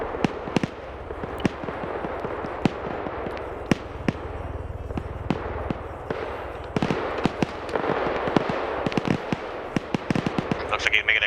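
An aircraft makes a strafing gun run in a military video game, heard as a dense, irregular string of sharp cracks and bangs, some near and loud, others softer, over a steady background rumble.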